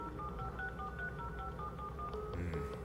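A phone is dialed over and over with a steady run of keypad tones, the call never connecting, the beeps sitting over a low rumbling backdrop with a brief jumble of extra tones near the end.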